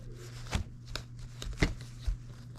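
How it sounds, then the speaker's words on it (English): Water-soluble embroidery stabilizer being torn by hand, a few short crisp rips spaced apart over a steady low hum. "Oh, I'm ripping it."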